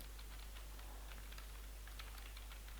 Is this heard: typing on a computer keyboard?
yes